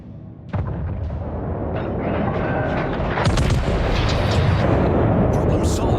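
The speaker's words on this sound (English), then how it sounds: "these bombs are coming back" Heavy booming explosions from bombs in World of Warships, a dense continuous barrage of blasts and rumbling detonations that swells louder after a few seconds, with someone speaking over the naval battle din.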